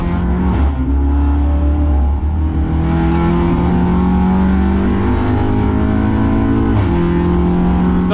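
An Audi RS3 TCR race car with DSG gearbox in an endurance race, its engine loud and close, holding a steady high drone with sharp pitch drops at quick gearshifts before climbing again.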